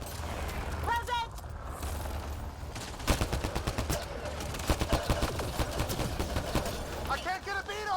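Rapid bursts of sci-fi gunfire in the video game Mass Effect Andromeda, a dense rattling fusillade of repeated shots over steady background noise, with voices talking over the combat.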